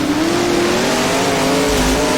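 Modified race cars lapping the East Bay oval in rFactor, a steady loud engine drone with rising pitch as the field accelerates, continuous and close with no talk.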